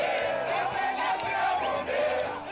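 A concert crowd cheers and shouts loudly for a Zimbabwean musician, a dense, continuous roar of many voices close up throughout.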